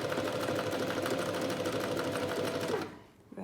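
An Alfa Practik 9 sewing machine stitches at steady speed, giving a loud, close mechanical whir with a rapid even rhythm that runs for nearly three seconds before stopping abruptly into quiet.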